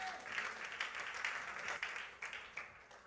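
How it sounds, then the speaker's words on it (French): A church congregation breaks into sustained applause to acclaim the king of kings, a steady wash of many hands clapping that swells and fades in waves, moderately distant in a large room. "est-ce qu'on peut acclamer le roi des rois?"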